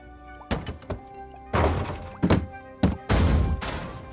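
Heavy collision thuds from a sound-effect library in the PS4 game creation tool Dreams, several loud broadband impacts in quick succession, each with a short crashing tail, with no talk over them.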